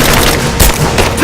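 Gunfire in the video game Rise of the Tomb Raider: loud, rapid bursts of shots close together, with a few sharper booming reports standing out over the clatter.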